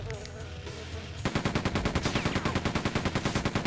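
Quake II gunfire that starts after a second of game ambience and then keeps up a steady, rapid automatic rattle, loud and close.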